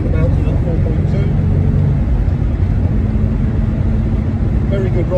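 A 1963 Jaguar Mark 2 fitted with a CMC high-torque 4.2 engine accelerates hard out of a roundabout, giving a loud, steady engine drone close to the microphone.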